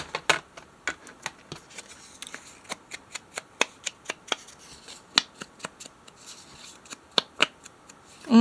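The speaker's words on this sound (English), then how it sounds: "And then I'm going to cut off some of this white border." Scissors snip away the white border of a paper journal piece in a string of sharp, close, quiet clicks, irregularly spaced over several seconds, with no voices.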